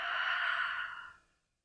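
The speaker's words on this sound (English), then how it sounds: "breathing out." A long, breathy exhale during a slow-flow yoga session, close and steady for about a second before fading into silence.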